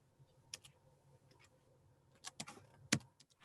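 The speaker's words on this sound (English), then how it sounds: "Officer Kapayou is typing in his information, his contact information, and email address." Sparse, uneven clicks of someone typing on a computer keyboard, quiet and close, with scattered single keystrokes and a small cluster of louder taps near the end, no talking.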